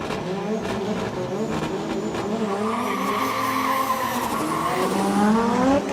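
A BMW M2 F22 and a JZX100 Chaser drift in tandem around a corner at Okuibuki Motorpark, their engines wailing and tires squealing in long, sustained screeches that rise and fall, loud and close throughout.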